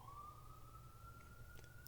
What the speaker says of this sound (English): I hear ambulance or I hear sirens